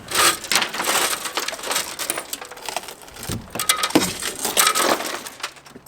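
The rear glass of a Toyota Tundra pickup is broken out, giving sustained loud crunching and crackling of shattering glass, close up and continuous with brief tinkling fragments, no voices.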